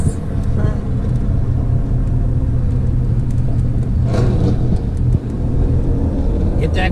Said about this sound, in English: Corvette. Rev it up.